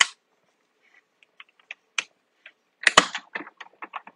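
Metal plates cranked through a manual cut and emboss machine, giving scattered dry clicks and then a denser burst of crunchy ratcheting clatter, close and fairly loud against silence.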